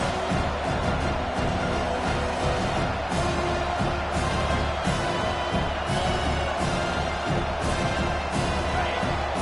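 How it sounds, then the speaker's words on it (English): A football stadium crowd roars, a broad sustained wall of cheering and whooping that swells in waves over nine seconds. A commentator's voice runs faintly beneath the din. "This crowd bringing the energy and noise early."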